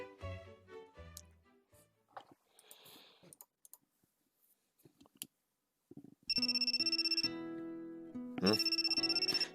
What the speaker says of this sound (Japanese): Take out my cell phone, see it is from Maya.